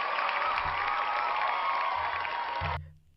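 Audience clapping and applause at a livestream show, a brief dense burst of crowd clapping that cuts off abruptly, with faint low background music underneath.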